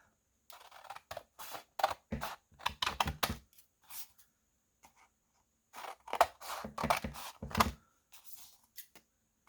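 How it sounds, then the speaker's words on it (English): Scissors snipping through paper doll flip tags to cut them into fourths, heard as close, crisp bursts of short cuts in quick clusters with brief pauses between them and no talking. "next step is I'm going to cut them out just in fourths, like this"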